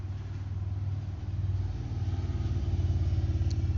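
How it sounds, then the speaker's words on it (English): Road traffic rolls by as a steady low engine rumble with a faint throbbing pulse, dipping briefly and then building louder toward the end, with no voices over it. "there's just so much traffic suddenly"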